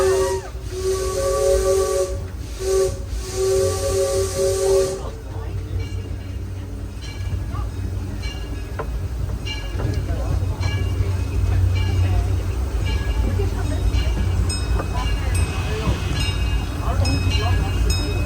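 Disneyland Railroad steam locomotive, C.K. Holiday or Ernest S. Marsh, sounds a loud multi-tone steam whistle in two blasts, then a long rushing hiss of steam with chuffing and rolling noise underneath.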